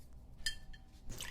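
Liquid from a bottle trickles into a glass in short close drips and splashes, with bright clinking tones and a brief louder pour at the end.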